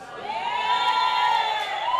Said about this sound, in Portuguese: Pode gritar bastante. Grevista tem que gritar muito mesmo.